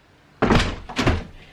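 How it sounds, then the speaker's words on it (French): A heat-swollen door sticking in its frame, giving two heavy thumps about half a second apart as it is forced, loud and close with no talk. "J'ai cette porte là qui bloque."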